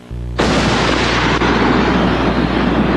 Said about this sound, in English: Soon, the government resumes firing